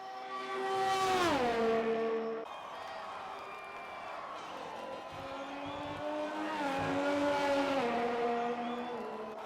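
Race car engines howl past on a track in Forza during a realistic-performance league round, two loud revving pass-bys with pitch sweeping down as each car goes by, engine drone continuing between them.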